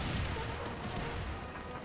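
Musket volleys crack and rumble across a battlefield in Empire: Total War, a dense continuous roll of distant gunfire with a woodland nearby.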